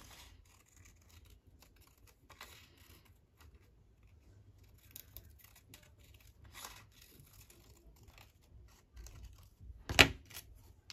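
Scissors cut out a shape for a handmade pocket, with faint intermittent snips and paper rustling scattered through a quiet room, ending in one sharp louder snip.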